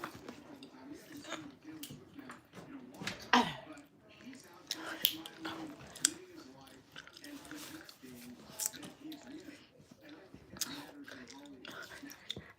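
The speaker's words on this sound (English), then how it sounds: "let me show you how I chew" A person chewing gum with open-mouthed, wet smacking and biting sounds, close and fairly loud in an irregular rhythm, with breathy voice and faint talk mixed in around the chewing.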